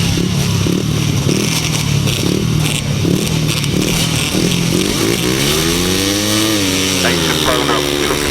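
250cc solo motorcycles racing on a grasstrack at the 2006 Bewdley Bonanza: engines drone loud and continuous, rising and falling in pitch toward the end, with a voice over them.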